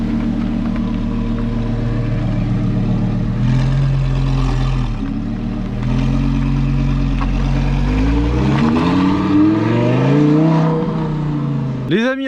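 Nissan TDS car engine revving while drifting, a continuous close roar with repeated rising and falling revs over about twelve seconds, voices talking faintly underneath.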